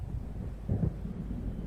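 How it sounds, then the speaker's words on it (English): A distant, low rumble of thunder from an approaching storm in the video game Alan Wake rolls under steady wind noise, swelling briefly and then fading back into a continuous dull roar. "It seems there's a storm coming."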